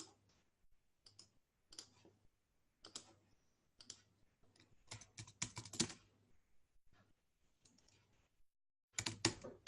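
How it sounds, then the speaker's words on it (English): Computer keyboard typing in bursts of quick clicks separated by pauses, close and moderately loud, with a faster, denser run near the end. "I'll just type those in for you, showing you 4 different tenses."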